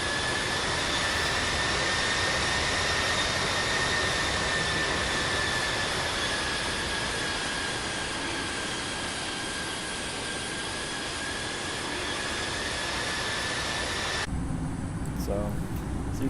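Simulated airliner jet engines in Infinite Flight on final approach to runway 13 at Peoria: a loud, steady roar with a high whining tone, broken by an abrupt cut near the end.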